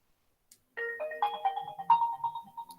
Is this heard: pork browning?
no